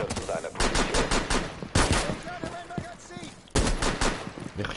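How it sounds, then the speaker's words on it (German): Gunfire from the video game Rainbow Six on PS4 comes in dense, rapid bursts with a few longer volleys. Players talk over and between the shots. "Ich schieße auch da."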